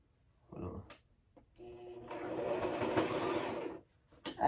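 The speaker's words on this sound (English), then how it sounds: "I'm gonna see if I can sew backwards for y'all real fast." A sewing machine stitching backwards on a jacket patch, with a brief whir and a click, then a steady mechanical run of about two seconds, close and fairly quiet, ending in a sharp clack.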